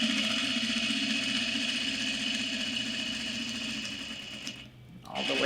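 Sewing machine running steadily and fairly loud while stitching the side seams of a bag with a half-inch seam allowance, a continuous motor whir that cuts off briefly near the end before starting again.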